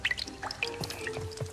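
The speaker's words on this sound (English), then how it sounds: "That dripping noise is really loud." Water drips loudly and repeatedly inside My Time at Portia, each drop a sharp, plinking splash at an uneven rhythm over a faint steady hum.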